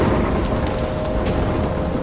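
Heavy steady rain with a rumbling low thunder bed in a stormy scene from the video game Life is Strange, loud and continuous across the whole stretch, with no voices.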